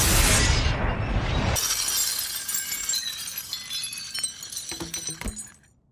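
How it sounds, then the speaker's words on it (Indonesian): A glass aquarium shatters in the animated film Rango: a loud burst of breaking glass, then scattered tinkling shards and clinks settling and fading out. "akuarium terlempar keluar, sehingga hancur berkeping-keping dan bunglon tergeletak di atas kepingan kaca"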